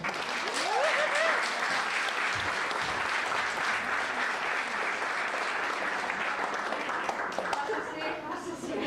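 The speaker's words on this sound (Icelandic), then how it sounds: "Við skulum gera brjáluð fagnaðarlæti fyrir Sigurð Ingólfsson" Audience at a library poetry slam applauds loudly and steadily for the full stretch, a dense wash of clapping with a few faint cheers rising above it.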